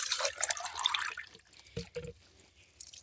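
Water is poured from a mug in a garden, arriving in a few close, small splashes and trickles. Brief gurgling bursts alternate with short pauses, with no talk over them.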